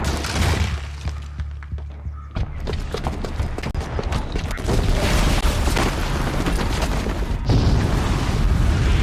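A bomb booby trap going off in a video game, a dense rumbling barrage of booms and crashing debris with sharp cracks, loud and sustained, swelling again near the end.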